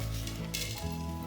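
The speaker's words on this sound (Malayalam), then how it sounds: "ടേബിൾ സ്പൂൺ വെളിച്ചെണ്ണ ഒഴിക്കാം. അത് ചൂടാകുമ്പോൾ കുറച്ച് ഉലുവ നമുക്ക് ചേർക്കാം, മുഴുവൻ ഉലുവ." Whole fenugreek seeds sizzle briskly in a few tablespoons of hot coconut oil for a Kerala-style king fish curry, a steady close crackle that carries on without any talk.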